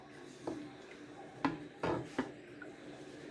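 Seasoned ingredients with salt and pepper are mixed in a bowl with a spoon, making a few soft, scattered knocks and scrapes that are faint and close, with no talking.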